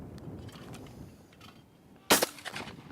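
Single sharp shotgun blast at a clay target from a CZ Southpaw Sterling at an Aguila Cup shoot, a loud crack with a short ringing tail, preceded by quiet outdoor background.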